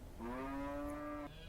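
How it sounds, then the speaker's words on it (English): A single emaciated longhorn cow in Maricopa County after dark lets out one long, drawn-out moo lasting about a second, fairly close and clear against a quiet background. "the whole place is crawling with the most emaciated cattle I've ever seen"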